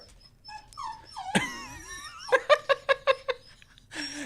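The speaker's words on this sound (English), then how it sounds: "That puppy doesn't want to play with you." A puppy yelping and whimpering in high, rising squeals, followed by a quick series of short rhythmic yips, close and clear with a faint murmur of voices in the background.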